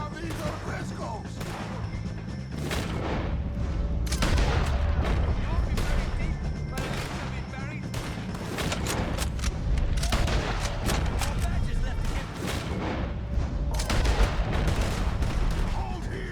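A gunfight in Red Dead Redemption 2 against O'Driscolls, with rapid bursts of gunfire and sharp shots cracking repeatedly throughout, mixed with shouted voices.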